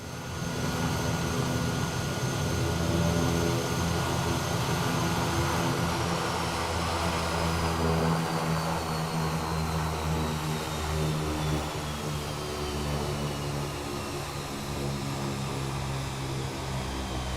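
A Kodiak 100 single-engine turboprop in Microsoft Flight Simulator drones steadily with a loud, even propeller and engine roll throughout, no voices.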